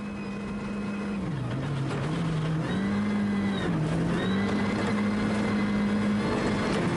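A rally car at speed on a fast stage of the ERC Liepāja event, where the engine drones loud and close as its pitch dips and climbs with gear changes, over constant road and wind roar.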